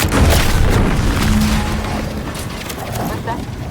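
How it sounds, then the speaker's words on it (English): A loud, deep boom rumbles at the start and fades over several seconds, with a low hum and debris-like crackle trailing behind, inside the video game The Outer Worlds 2. "What's that? An explosion?"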